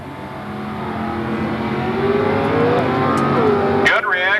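A Chevrolet Vega drag car in the certified transmission lane launches at a 1991 drag race, its engine roaring louder and climbing steadily before a sharp sweeping whine near the end, close and powerful.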